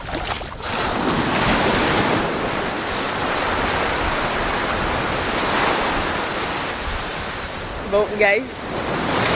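Ocean waves rolling in at Eldorado beach in Benin, a steady broad wash of surf mixed with wind buffeting the microphone, with a brief spoken voice near the end.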